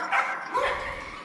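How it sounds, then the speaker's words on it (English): Several dogs at night bark and yip in a brief, muffled, overlapping burst heard from a moderate distance against a steady background hum. "My dogs are all barking"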